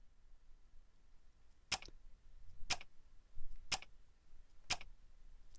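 A clock in the Chrono Clock visual novel gives four sharp, evenly spaced ticks about a second apart, crisp and isolated over a faint, quiet background.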